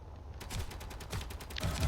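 Rapid automatic gunfire and bullet impacts in the space game Space Engineers, a fast rattling stream of shots that grows louder toward the end, with no talking.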